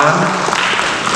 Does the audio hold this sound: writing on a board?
no